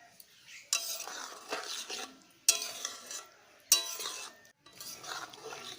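Ghee being stirred into palak paneer in a cooking pan, with a utensil scraping and clinking against the metal in several separate bursts amid a soft, steady sizzle, close and moderately loud.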